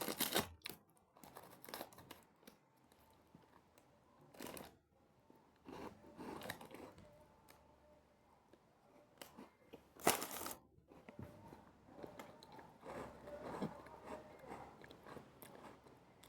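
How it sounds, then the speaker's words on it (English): Someone chews food close to the microphone, with moist crunching bites and loud sharp crunches, continuing steadily with brief pauses and no talking. "you're gonna have to sit in silence"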